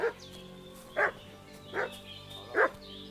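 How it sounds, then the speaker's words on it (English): A dog barks four times in Kingdom Come Deliverance 2, with short, sharp barks spaced roughly three quarters of a second apart. The barking is moderately close and stands alone over a faint background hum. "What's that dog making such a fuss about?"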